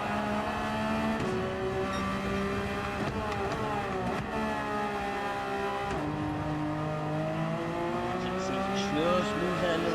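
A race car in a racing game howls through shifting revs as it slides, engine pitch rising and dipping with tire squeal scrubbing over the top, loud and sustained while a voice talks over it.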